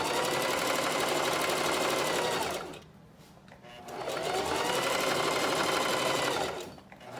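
A sewing machine runs in two long continuous bursts of stitching through fabric, with a short slowdown between them, steady and close with no talking.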